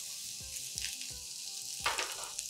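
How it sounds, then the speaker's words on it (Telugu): Pumpkin pieces fry in ghee with a steady, moderate sizzle, punctuated by a few stirring knocks and a louder burst of crackling partway through. "ఇంకా కొంచెం నెయ్యి వేసి, మళ్ళీ కొద్దిగా నెయ్యి వేసి ఈ గుమ్మడికాయ ముక్కల్ని వేయించేద్దాం."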